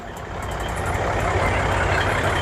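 An old-school Peterbilt cab-over semi truck with chrome rumbles close by, its deep diesel engine note swelling slightly and holding steady and loud.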